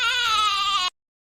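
A goat sound effect: one loud, wavering bleat that lasts nearly a second and then cuts off sharply into silence.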